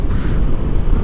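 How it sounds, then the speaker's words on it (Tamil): Strong wind gusts across a hillside on a mountain road trip toward Ladakh, a steady loud roar buffeting the microphone with low rumbling throughout and no talk. "காற்று ரொம்ப வேகமாக அடிக்குது."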